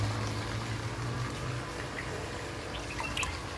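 A water pump draws water in, a steady wet gurgling and rushing flow with faint dripping and bubbling, continuous and fairly close, with no voices.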